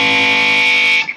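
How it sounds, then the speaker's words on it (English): Electric guitar sounding a natural harmonic at the 9th fret through distortion, a loud bright sustained tone holding steady for about a second before cutting off into a short fading tail. "on the 9th fret, that's a natural harmonic, but when you play it with distortion, it sounds pretty"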